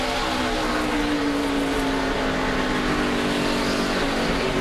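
NASCAR race cars accelerate out of a corner, a steady loud engine roar with a rising whine that holds throughout and no voices over it.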